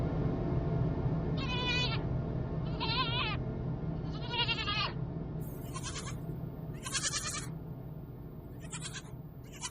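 Several goats bleating in repeated wavering calls, some lower and some higher-pitched, one after another over a steady low background hum.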